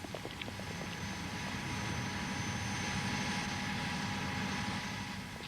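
Airplane on a weightlessness training flight, a continuous loud engine drone and cabin roar heard from inside, steady and unbroken with no talking.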